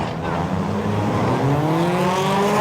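Two drift cars battling on track, a Bubba Drift El Camino chasing and a 240SX close behind, engines roaring loudly and continuously with rising revs and tire noise, under commentator talk.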